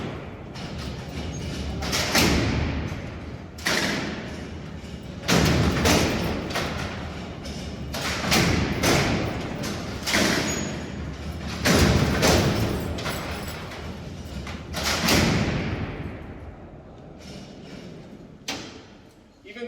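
Heavy steel cell doors at Alcatraz prison sliding and slamming shut: a series of loud metallic thuds and bangs echoing through the cellblock, spaced every couple of seconds, with people talking between them.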